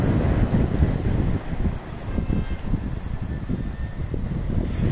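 Rough Sicilian sea on a sunny, mild day, waves surging and breaking continuously with strong wind buffeting the microphone, a dense, loud roar with no pauses.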